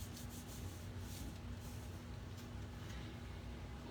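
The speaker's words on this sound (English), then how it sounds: "And I turn it over and I rub really good to just get it to adhere." Vellum paper is pressed and rubbed firmly onto a card to make it stick, a soft steady scratchy rubbing close by that runs without pause and carries no voices.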